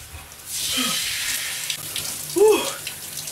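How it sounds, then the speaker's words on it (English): Cold shower water running in a steady hiss, with faint splashes and a brief squeaky vocal or fixture sound near the end, close and moderately loud. "A cold shower."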